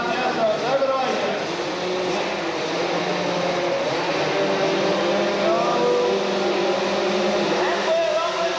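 Motocross bikes rev together at the start line of the 1987 Supercross Masters in Sydney, Kawasaki among them, a dense, steady engine roar that holds for several seconds under a commentator's voice.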